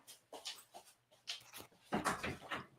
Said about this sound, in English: I'm going to let my dog out of here